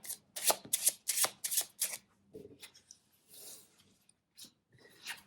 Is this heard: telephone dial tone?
no